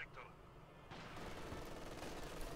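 An MG42 machine gun firing in the Company of Heroes 2 video game, a dense, sustained burst of rapid gunfire starting abruptly after a brief quieter lead-in, fairly faint and continuous to the end.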